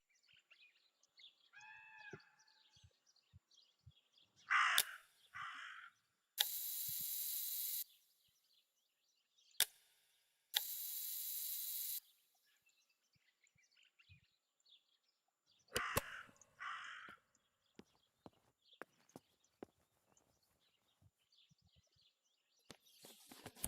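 A raven caws in the video game Martha is Dead, giving a few harsh croaking calls spaced apart among quiet clicks, short hisses of static and sparse game noises.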